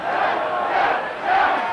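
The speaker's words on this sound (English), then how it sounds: "the crowd starting to chant for South" Rugby league grand final crowd at Lang Park, 1985, chanting for Souths in a loud, rolling roar of massed voices that swells and ebbs, heard from within the stands.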